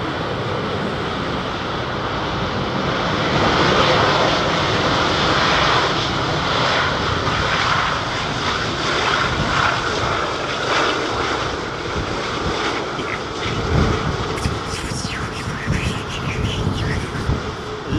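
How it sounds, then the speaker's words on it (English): A roaring, steady wash of airliner jet engines in reverse thrust after touchdown at London Heathrow, loud and continuous with a slight swell midway, as the aircraft decelerates on the runway. "Bleed air coming out, well, reverse air or bypass air being blown out the side of those engines, man."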